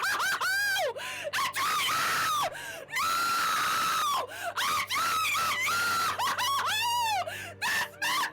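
A girl lets out long, gut-wrenching shrieks and wailing screams in repeated bursts, loud and close, broken by sharp gasps and sobbing cries between them.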